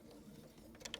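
A sewing machine back-stitching a fabric face mask hums faintly and steadily, ending in a couple of quick mechanical clicks.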